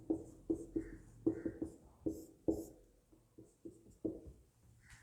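A pen scratching notes in Hindi during a lecture on the Munda tribes of Jharkhand, with short, close strokes in quick irregular bursts and small pauses between words.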